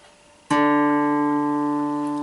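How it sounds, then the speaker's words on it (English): A single plucked guitar note, D on the fifth fret of the A string, rings out clearly after a sharp attack, sustaining and slowly fading, heard up close with nothing else. "put your finger on the 5th fret on A. This will give you a D note"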